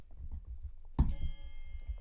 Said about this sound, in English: Let's get my bell.